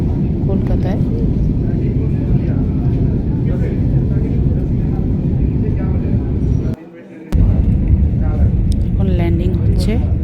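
A passenger airplane landing at Kolkata gives a loud, steady low cabin rumble throughout, briefly dropping out for a moment near the end. Voices talk over the drone.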